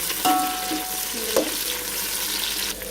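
Mint and coriander frying in an oil tempering for bagara rice, giving a steady bright sizzle with a few clinks of a utensil against the pan.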